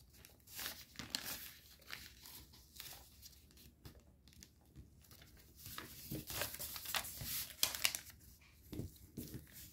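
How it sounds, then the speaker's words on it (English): Paper being folded and crimped, with mountain folds pressed to the center, for an origami fighter jet: close, crisp crinkling and rustling in irregular bursts, some louder crackles and short quiet gaps between handlings. "grab those mountain folds and crimp them to the center"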